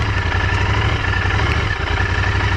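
A Royal Enfield Continental GT 650 motorcycle with a cafe racer fairing rides a slow circle on slick roads, its parallel-twin engine giving a steady, close, loud low throbbing rumble without any talking.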